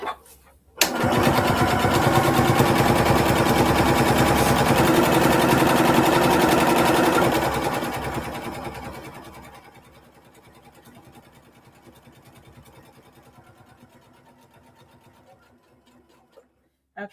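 An embroidery machine stitches a practice panel, a steady rapid mechanical whir with a fast repeating needle rhythm that runs loud for several seconds, then winds down to a quiet hum before a click at the end.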